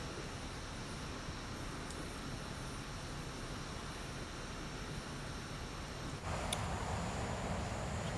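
Aermacchi MB-339 jet in Microsoft Flight Simulator 2024 droning steadily, a broad continuous engine roar with airflow that swells slightly louder near the end, no voices over it.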